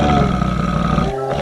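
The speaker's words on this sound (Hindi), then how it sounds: "तभी वह चिंघाड़ने लगता है।" A black monkey giving a loud, deep, sustained roar as a horror sound effect, a continuous growling bellow that fills the whole moment and tapers off slightly at the end.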